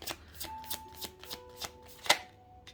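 Tarot cards being shuffled and drawn, heard as a rapid series of crisp card riffles and slaps, about eight quick bursts in a quiet room, with faint background tones.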